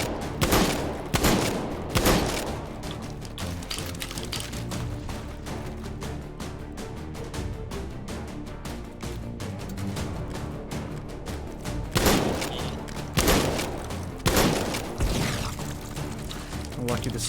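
Rapid bursts of gunfire from the VR shooter game H3VR, including shotgun blasts, crack out loud and close in clusters near the start and again later, over a steady dense background of game noise.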